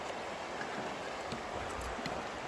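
River flowing beneath a trail bridge along the JMT/PCT near Thousand Island Lake, a steady broadband rush of moving water filling the whole clip, close and constant with no voices.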